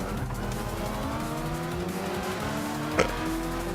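Race cars in the Gran Turismo 6 video game roar steadily close behind the player's car, engines droning loud and continuous with a brief sharp bump or scrape near the end.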